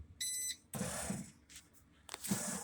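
A bread machine gives a short electronic beep, clear and close, when it starts. Kitchen clatter and movement follow it.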